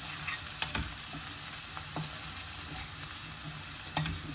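Pav bhaji mixture with peas being stirred in a pan, a steady sizzling fry with occasional light scraping clicks of the spoon, close and moderately loud.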